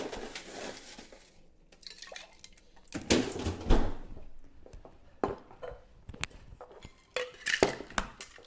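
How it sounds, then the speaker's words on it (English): Ice clinks and rattles into a cocktail shaker for a chocolate tequila cocktail, a scatter of close, bright knocks and clatters in bursts, loudest in the middle, with no talking. "I'm gonna get a little bit of ice here"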